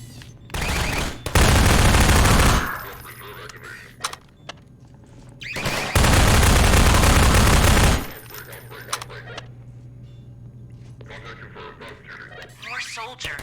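Automated turrets in Half-Life 2 firing long, loud, continuous bursts, two sustained volleys separated by quieter game sounds and scattered shots, with a voice speaking in between.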